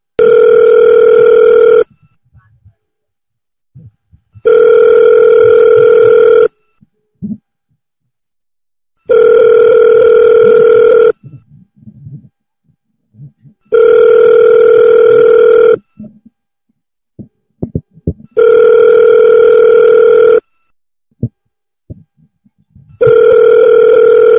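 Ringing tone of an outgoing mobile audio call: six steady, loud electronic tone bursts, each about two seconds long, separated by pauses of about two seconds, with faint clicks and rustles in the gaps.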